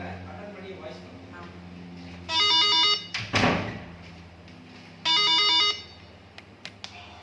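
A smart doorbell's phone ringtone plays in two short melodic bursts, loud and near, separated by a clunk and scraping handling noise, with people talking quietly in the background.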